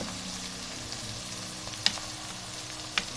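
A large tomato goes into hot oil in a pan for garlic matar pulao, producing a steady, close sizzle with two brief crackling pops standing out above it.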